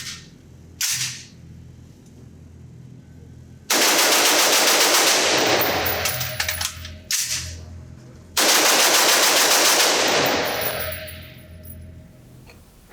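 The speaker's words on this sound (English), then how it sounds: "see how fast I can shoot this gun, drop that magazine, get it clear, and get the gun back in action" A Sig Sauer MCX Virtus 5.56 rifle fires two long, loud bursts of rapid shots at a range, with short single reports and metallic clatter in the pauses.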